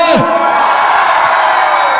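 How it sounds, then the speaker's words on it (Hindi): A large conference audience shouts and whoops loudly and continuously, a dense roar of many voices with one rising yell standing out at the start. "एक बार जोर से चिल्ला दीजिए"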